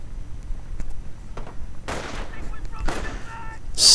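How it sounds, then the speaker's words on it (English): Wartime battle in a WWII strategy video game, with a grenade thrown at a mortar: scattered sharp bangs and two louder explosive bursts, ending in a bright crack, under light background speech. "Oh, grenade against the mortar."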